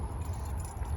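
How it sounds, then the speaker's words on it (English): Keys clipped to a jeans belt loop jangle and rattle with each step while walking outdoors near a B-52 bomber, a steady close metallic clatter with no talking. "I have my keys attached to my belt loops on my jeans here"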